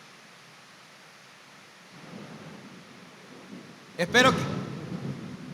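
Rain falls steadily during a thunderstorm, with a sharp thunder crack rumbling in near the end, while someone speaks briefly.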